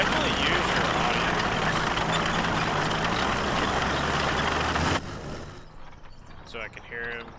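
Tracked armored vehicle engine in the World War II strategy game Gates of Hell, a loud steady heavy rumble with grinding noise that cuts off sharply partway, leaving quieter battlefield ambience.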